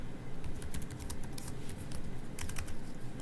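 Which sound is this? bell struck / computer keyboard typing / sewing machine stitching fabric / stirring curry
computer keyboard typing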